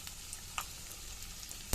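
Fenugreek seeds, cumin, three or four whole red chilies and asafoetida sizzle in hot oil as a tempering, a faint steady crackle with a few small pops and a sharper spatter at the end.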